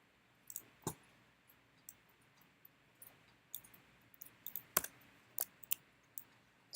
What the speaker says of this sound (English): So I'm just kind of clicking through them, seeing if any of these guys jump out.